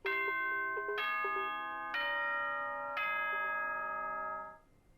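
A rising multi-tone bell chime from the Danganronpa school announcement system rings out in four clear, sustained struck notes roughly a second apart, ringing alone before fading at the end.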